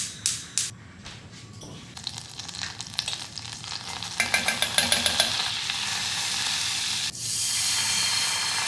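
Turkey bacon rashers, two burger patties and onion fry together in hot pans, a loud, steady sizzle and hiss broken by a run of sharp scraping and tapping stirs.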